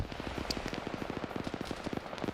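Autocannon fire in a PvP shooter game hammers out a rapid, steady barrage of closely spaced reports, dense and continuous for the whole stretch, moderately loud with no voices.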